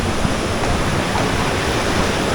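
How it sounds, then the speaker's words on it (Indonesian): A fast, rushing river near a Dutch colonial-era tea factory and village roars in a dense, unbroken wash of water noise, loud and close. "Ternyata ada aliran sungai deras teman-teman di sini."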